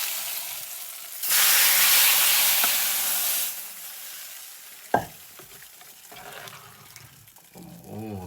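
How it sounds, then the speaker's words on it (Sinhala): Tempering spices are dropped into hot oil and flare into a loud, bright hiss for about two seconds. The hiss fades to a quieter sizzle, broken by a sharp knock and a brief voice near the end. "හරි ඔන්න එහෙනම් අපි තෙල් තෙම්පරාදු දාන්න ලෑස්තිය."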